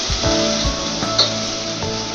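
Onions with green chillies sizzle steadily in a hot pan, a continuous close frying hiss broken by a few soft scraping stirs, with no voices.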